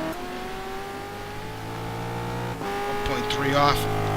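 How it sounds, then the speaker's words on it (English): Corvette race car in a sim racing game at the Daytona road course, its engine note climbing steadily through a long pull with a gear change and louder revving near the end, under commentators' talk. "Johnny Lugnuts looking pretty quick here in this Corvette"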